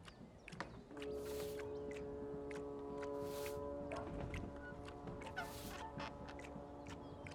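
Bird calls in the video game Dreamfall Chapters, a fowl-like clucking and squawking repeated in short bursts over a steady tonal ambient bed, fairly close and moderately loud.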